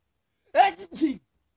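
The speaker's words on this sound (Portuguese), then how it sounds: "Eu vou espirrar." A single short sneeze, a sharp voiced burst followed by a second breathy exhalation, close and alone against silence.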